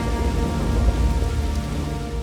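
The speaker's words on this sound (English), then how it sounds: "a tremendous storm rolls over the capital," Heavy rain pours down in a steady, loud, dense wash during a thunderstorm, with a low rumble of thunder rolling underneath and no gaps.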